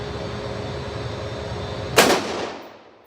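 A single loud gunshot cracks at an outdoor shooting range after a steady low background, its sharp blast trailing off in a fading echo.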